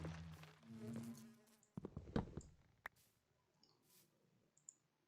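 A Minecraft bee gives a faint, low buzzing hum that fades out after a moment, followed by scattered soft clicks in near-silence.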